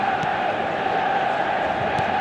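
A stadium crowd in the eFootball video game keeps up a steady, dense roar of cheering and chanting throughout. The sound is even and sustained, with no distinct peaks.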